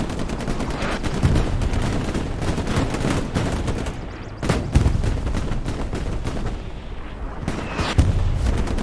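Rocket explosions and rapid gunfire in the World War II video game Hell Let Loose on Utah Beach, sharp repeated shots and bursts with heavy booms at intervals, loud and continuous with no voices.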